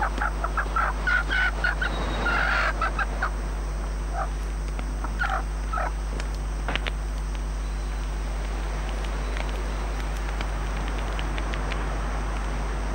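Chickens kept on an island survival camp cluck and squawk in short bursts near the start, then fade to scattered calls over a constant low hum and insect-like outdoor background.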